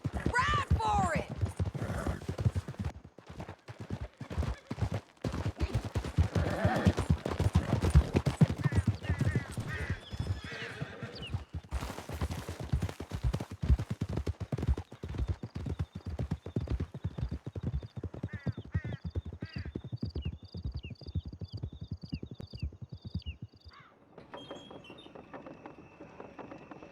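Horses gallop in Red Dead Redemption 2, a fast, steady clip-clop of hooves pounding on and on, loud and close, with a whinny partway through and a quieter tail at the end.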